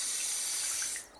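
Water runs from a tap for ablution in a steady close hiss that cuts off near the end of the short stretch.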